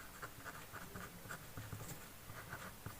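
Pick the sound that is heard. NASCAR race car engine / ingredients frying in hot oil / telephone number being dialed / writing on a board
writing on a board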